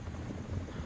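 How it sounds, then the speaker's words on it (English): A helicopter in the Blood Strike video game thrums steadily with a dense, low rotor drone that holds at moderate level throughout the short stretch. "Currently with the chopper. They are going to use the chopper to relocate and get themselves at another side of the map."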